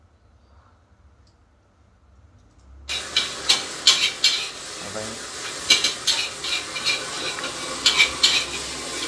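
Nasi goreng is stir-fried in a pan with a loud sizzle and repeated rhythmic scraping and tossing strokes, close and steady after a quiet start, with brief speech at the beginning.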